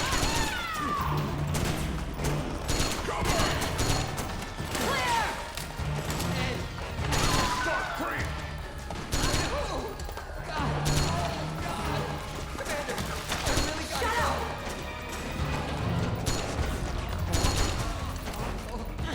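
Gunfire in Metal Gear Solid 4, a stealth-action video game: continuous dense shooting and crashing throughout, mid-level and busy, with voices talking over the battle.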